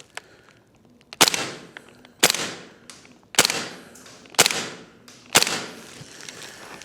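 A KWA Lithgow Arms F90 AUG gas blowback airsoft rifle fires semi-auto indoors in a CQB setting: five loud, sharp cracks with short echoing tails, spaced about a second apart, plus a few faint clicks between shots.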